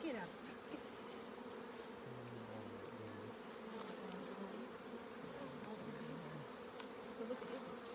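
Bees and wasps buzz steadily around an open hive frame during an outdoor hive visit in Fairbanks, a dense continuous hum with a few louder drones passing close by.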